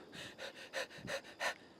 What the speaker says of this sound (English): I'm panting from the chest.